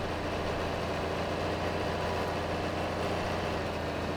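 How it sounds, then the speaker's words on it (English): Tractor engine idling in Farming Simulator 22, a steady low mechanical rumble held evenly throughout with no voices. "Go tractor."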